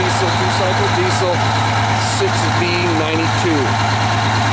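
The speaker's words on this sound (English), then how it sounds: "Detroit diesel. This is a 2-stroke diesel, 2-cycle diesel," A Detroit Diesel 6V92 two-stroke V6 turbo diesel idling in a 1987 MCI 102-AW3 coach bus, a loud, steady low drone with constant vibration, under someone talking nearby.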